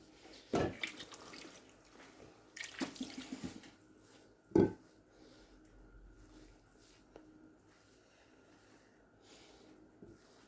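Water trickled little by little onto couscous, soft faint drips and splashes with a few louder wet plops, no voices.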